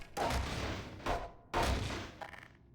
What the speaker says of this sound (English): it makes a really nice, simple shooting range to test out the pistol